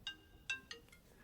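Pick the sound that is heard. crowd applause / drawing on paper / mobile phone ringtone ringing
mobile phone ringtone ringing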